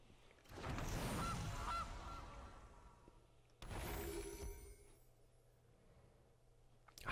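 In the MTG Arena card game, playing the Gilded Goose card brings two loud honking goose calls, each after a whoosh, followed by a soft ringing tail.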